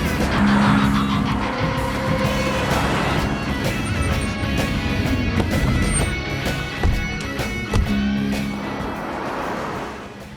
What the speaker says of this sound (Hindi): जल्दी गाड़ी स्टार्ट कीजिए